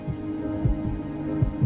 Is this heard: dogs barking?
no